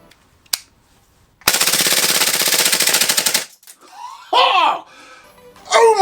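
KSC Auto Nine C gas blowback airsoft pistol emptying its magazine at close range: a single sharp shot, then a loud rapid full-auto burst lasting about two seconds, followed by excited laughter and exclamations.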